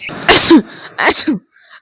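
A woman sneezes twice in quick succession, loud and close, each with a sharp inhaled buildup and burst.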